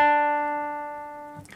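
A plain guitar note on the fifth fret, steady without vibrato, ringing close and alone as it decays, cut by a soft noise at the end.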